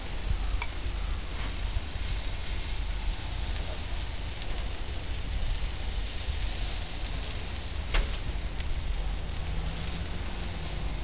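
Steaks and scallops on a charcoal grill, sizzling steadily and continuously with dense crackling close to the listener, with a few sharper pops, for about eleven seconds and no talking.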